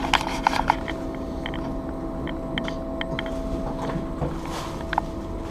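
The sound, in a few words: blower motor running with a bad bearing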